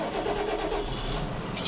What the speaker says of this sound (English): Just start her up straight away quickly